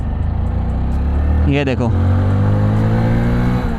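A Hero HF Deluxe Pro 100cc motorcycle pulls away from second gear, its engine note rising loud and close in a short revving sweep before settling into a steady drone, with someone talking over it.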